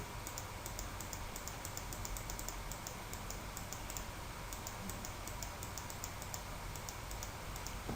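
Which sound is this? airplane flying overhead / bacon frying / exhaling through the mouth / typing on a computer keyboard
typing on a computer keyboard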